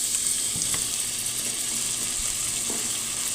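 Onions dropped into hot oil for a Filipino squash sauté sizzle steadily, a constant bright frying hiss with a few soft clicks and stirs, close and alone.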